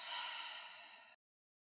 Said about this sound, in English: And exhale.